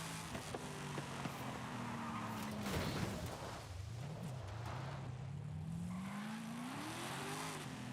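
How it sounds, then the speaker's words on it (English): A car engine in a racing video game bounces against its rev limiter; the tone falls away and climbs steadily again, with a rough burst partway through and constant engine drone throughout. "Put the head in the rev limiter like that and get an extra 20 odd fucking mile an hour out of it."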